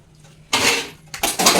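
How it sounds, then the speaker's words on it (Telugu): Steel drinking glasses set down on a kitchen dish stand: two bright metallic clattering clinks, the second a quick double knock, close and loud against a quiet room. "ఇక్కడ గ్లాసులు ఇలా తగ్గిస్తాం"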